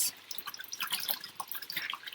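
A dirty grout sponge is rinsed in a container of water, giving soft close drips, splashes and trickling sounds in quick irregular bursts, fairly quiet with no talking.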